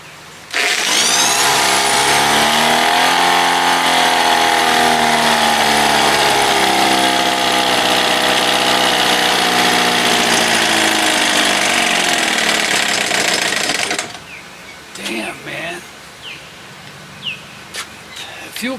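A 1975 Johnson 4 hp outboard motor roars loud and close, its pitch climbing and holding as the throttle opens, then cutting out abruptly, followed by quieter clanks and handling noises.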